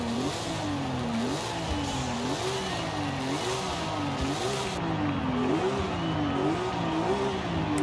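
A world-record car engine in Forza Horizon 5 revs hard and continuously, the pitch rising and falling in steady waves as it climbs through gears, loud and close with a brief shift partway through, no talk.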